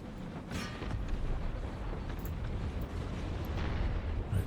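Booming cannon fire from an Empire: Total War battle, with deep low rumbling bursts rolling continuously under a dense, noisy battlefield wash.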